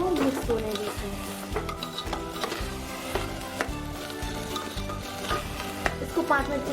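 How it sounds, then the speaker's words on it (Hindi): Masala and rice sizzle and fry in a pot while a spoon stirs them, with scraping strokes and steady crackle throughout, close and fairly loud, for a spicy khichdi cooked with soaked potatoes and a little added water. "इस मसाले को और चावल को मिक्स होने देते हैं।"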